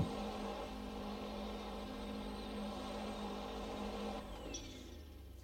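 A V8 race car engine in the RSS GT-M Bayro 6 racing game held against its rev limiter, a loud steady buzzing drone that drops off abruptly near the end, no talking.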